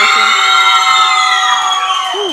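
A loud crowd roars and cheers continuously at a jiu-jitsu competition in San Pedro, with whistles and high shouts riding over the steady din.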